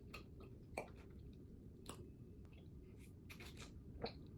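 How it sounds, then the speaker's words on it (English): Chewing food close to the mic: soft, wet mouth sounds with a few scattered crunchy clicks over a low background hum, quiet and without talk. "I'm gonna just finish chewing"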